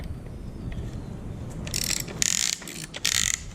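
A ratchet tightens bolts during assembly of a fire ringed Cummins engine, giving several bursts of quick clicking close by, with a low shop rumble beneath.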